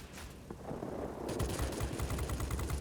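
Rapid rattling machine-gun fire from a dorsal gunner's turret on a warplane in World of Warplanes, building from a distant rumble into a steady, fast stream of evenly spaced shots.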